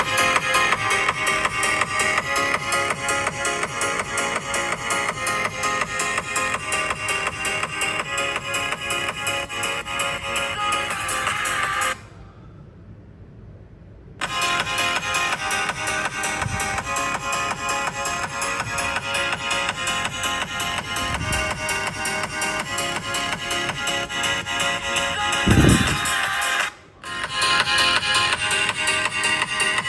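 Music plays through the speakers of an iPhone 16 and an iPhone 16 Pro in a side-by-side playback test, steady and loud with two brief dropouts as playback switches between phones.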